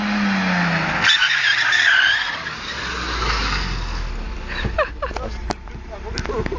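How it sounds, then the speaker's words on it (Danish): Car skidding with a driver losing control, a sustained noisy tyre-scrub hiss followed by a low rumble and sharp impacts, loud and close, with excited voices shouting over it. "Han har slet ikke styr på bilen"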